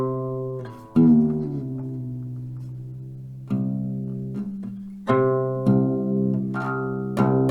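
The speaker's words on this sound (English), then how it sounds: "so now I'm in drop C, so that means my E string is no longer an E note, it's a C when it's open." Plucked guitar strings ring out in several separate notes, with the low E string detuned to drop C and compared against a reference note, each pluck decaying slowly, with no talking.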